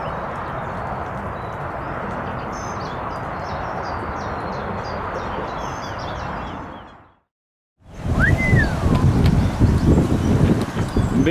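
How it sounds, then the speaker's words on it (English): Strong overnight wind at a carp fishing lake buffets the microphone with a continuous roaring rush. It cuts out for a moment, then returns in gusty bursts with a faint bird call above it. "Bit of a wind been kicking in last night"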